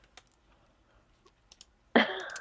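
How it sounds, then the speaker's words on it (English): Computer buttons get clicked with a scattered run of faint, sharp taps, then a louder sustained burst of noise takes over near the end. "I'm clicking through all the buttons there just to get to that point."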